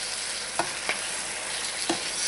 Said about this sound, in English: Now we add the tomatoes. Cook them for about 3 to 4 minutes until they begin to brown on the bottom.